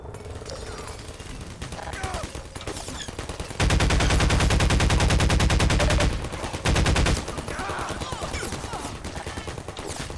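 Automated turrets in Half-Life 2 open up in long, dense bursts of rapid machine-gun fire, loud and close, broken by a short pause before another burst, with scattered gunfire and a voice around them.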